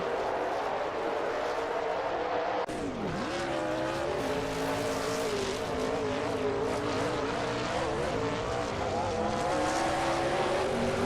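NASCAR stock cars in a video game race hard, engines wailing continuously with shifting pitch as they rev and downshift, a sustained loud roar with tire noise throughout.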